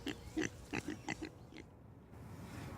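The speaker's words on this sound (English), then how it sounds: "Those are my pigs." Pigs on an organic farm in upstate New York, a series of short grunting oinks in an uneven run of about seven snorts, fairly close but quiet, then fading to near stillness.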